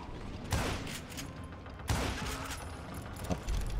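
Rifle shots in Call of Juarez: Gunslinger, on a burning steamboat: sharp loud cracks around half a second, two seconds and later, each with a short echoing tail over ambient game noise.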